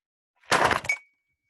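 A textbook dropped and hitting the floor lands as one sharp, brief impact with a short clattering tail and a faint ringing, alone in an otherwise silent room.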